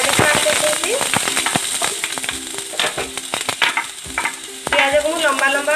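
Sliced onion hits hot refined oil in a home kitchen pan and sizzles loudly, with crackling spits, stirring clatters and a voice speaking over the frying.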